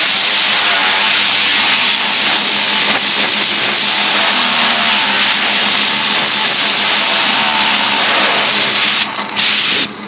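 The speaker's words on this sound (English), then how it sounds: "if you've got compressed air, you can take that and I will spin it up to speed one direction" A part spun up to speed with compressed air gives a loud, continuous whirring hiss that holds steady and fairly close throughout, then briefly cuts near the end.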